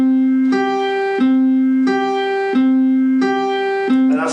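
A plucked string alternating between two notes a fifth apart, in a 2 to 3 ratio: clear sustained tones that switch back and forth about every two-thirds of a second, loud and close, with no talk.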